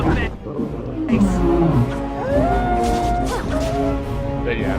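Wolves growl and snarl in the Dragon Age: Origins game at Ostagar, loud and continuous. A voice talks over them, partly masking them.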